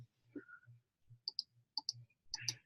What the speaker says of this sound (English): I'm going to click on the screen